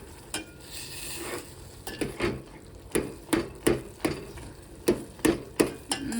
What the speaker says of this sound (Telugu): ఇలా ఒక గరిట తీసుకొని ఇట్లా మిక్స్ చేసుకుంటూ ఉండాలి